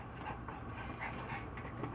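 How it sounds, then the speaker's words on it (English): A dog jumping up on a person's back, panting steadily at close range with some soft whimpering, amid light rustling and handling noise throughout. "I have a dog jumping up on my back"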